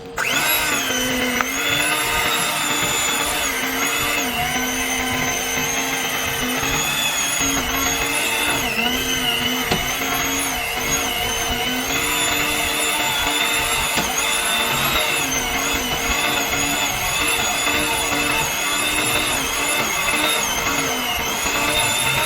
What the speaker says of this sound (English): This is my blending machine or mixing machine.